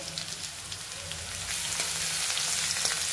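Cumin and garlic sizzle in hot oil while being stirred for a bottle gourd vegetable dish, a steady close-up frying hiss with scraping movement, the sizzle growing louder partway through, no voices.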